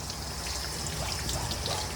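Water squeezed out over a mini poodle during a rinse gives a steady trickling, dribbling splash that runs without a break and sounds close and fairly loud, with no talking.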